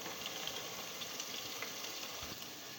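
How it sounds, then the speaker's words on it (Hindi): Ginger garlic paste frying in oil with golden brown onions, a steady soft sizzle and bubbling throughout, fairly quiet and continuous with no voices. "अब इसके अंदर हम लहसुन अदरक का पेस्ट शामिल करेंगे 1 टेबल स्पून।"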